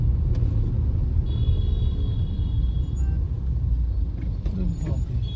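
Congested Delhi road traffic with cars idling and rumbling, a dense steady low roar of engines nearby, brief higher tones and a faint hiss near the end.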